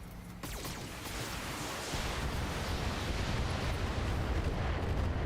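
A mech in the BattleTech video game fires all its weapons at once, a dense, loud roar of overlapping blasts that builds quickly and holds steady as a continuous wall of explosive noise, with no talking.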